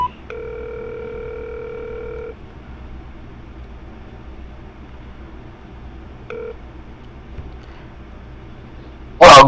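A phone line rings out while a podcast host dials a guest back: a long electronic ring tone for about two seconds, a pause, then a shorter second burst, followed by quiet line noise and a sharp click at the end.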